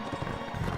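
Horse galloping in the video game Mount and Blade Warband, a steady run of muffled hoofbeats rolling along continuously at moderate level, with no other sounds standing out.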